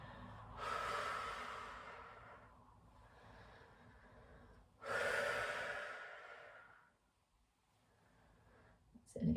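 Close, soft exhalations and inhalations during a yoga stretch: two long breathy swells, each rising and fading over a couple of seconds, with quiet pauses and low room noise between.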